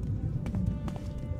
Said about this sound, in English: I hear footsteps behind me.